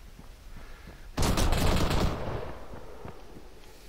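Automatic gunfire in the military shooter ARMA 3 erupts suddenly as a loud, dense burst of rapid shots lasting about a second, then trails off into fainter scattered reports and echoes.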